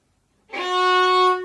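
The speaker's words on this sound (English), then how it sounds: "So we're going to start on second finger on the D string." A single sustained fiddle note played with the second finger on the D string, entering cleanly after a moment of silence and held steady and bright for about a second before easing off.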